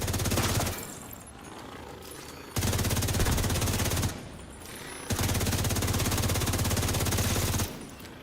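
Automatic gunfire in a first-person video game, loud sustained bursts in three long strings separated by short pauses, rapid steady rhythm, close and dominant.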